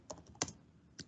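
Keys clack on a computer keyboard during a Java programming lecture, four or five quiet, close keystrokes spaced irregularly, with no talking.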